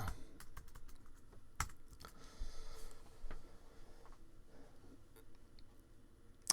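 Someone types a social media post on a computer keyboard, rapid uneven clicks and taps up close, with a few sharper key strikes in a quiet room.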